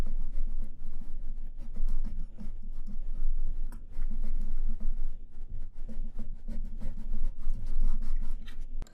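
Pencil drawing lines on paper, close scratchy strokes in repeated rhythmic passes with short pauses between lines.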